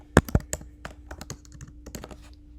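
Keys clatter on a computer keyboard in a quick, uneven burst of taps, two sharp strikes standing out near the start before lighter keystrokes continue close up, with no voice.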